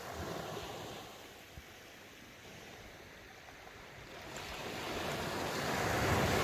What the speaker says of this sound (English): Just watching the tide come in.